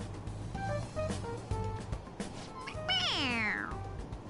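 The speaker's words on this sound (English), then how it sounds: "It meows when you press on its head." A toy cat in the game Persona 5 Royal meows when its head is pressed, a drawn-out falling meow over background game music, with no talk.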